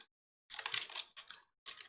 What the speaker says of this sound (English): I'm gonna type new line and put that there